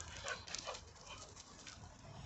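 A dog outdoors on an early morning makes faint, soft whimpers and small yips, with light panting between the brief cries. The sounds are quiet and come from some distance, with no talking.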